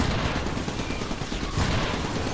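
Video game gunfire, a dense rapid fusillade of shots crackling loudly and continuously, with a heavier burst near the end.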